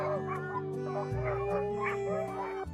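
Sled dogs barking and yipping together outdoors, several overlapping excited barks in quick irregular bursts, fairly close, with a steady tonal drone running underneath.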